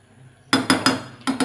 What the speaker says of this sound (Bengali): এবার একটু ঢাকা দেব।